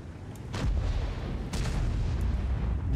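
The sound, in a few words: tank gun firing in the video game World of Tanks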